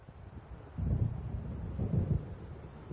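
A storm approaching in the video game Alan Wake Remastered: a low, rolling rumble of thunder swells twice, with a wind-like wash beneath it. No one speaks.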